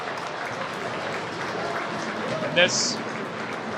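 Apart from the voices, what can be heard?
crowd applauding an injured hockey player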